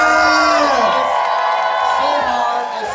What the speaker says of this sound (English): can we give a cheer for all these public meets